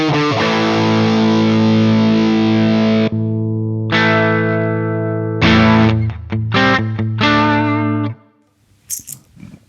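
An electric guitar through a handwired 18-watt Marshall 1974X combo amp rings out in loud, sustained distorted chords, several held long and then a quicker run of strummed changes before a short silence and a few faint string noises.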